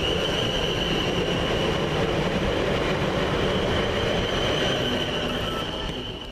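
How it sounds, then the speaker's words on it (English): A Class 450 electric multiple unit pulls away from Havant station, a loud continuous rumble of wheels and traction with a steady high whine, passing close and fading slightly toward the end. "Now leaving with the 11:50 service from London Waterloo to Portsmouth Harbour"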